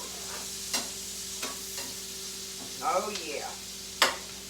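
Onions cook in a hot skillet for baked beans, sizzling softly with a few sharp stirring clinks and one brief scrape, and a voice speaks briefly.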